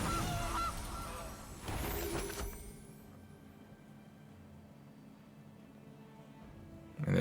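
A cartoonish goose honk sounds as a game effect in the digital card game Magic: The Gathering Arena, loud and busy over the first two seconds before fading into quiet, steady background hum.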